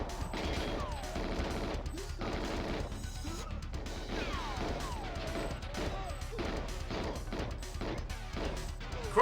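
Rapid gunfire and crashing impacts in the Nintendo 64 game GoldenEye 007, a dense continuous barrage of sharp bursts over game music throughout.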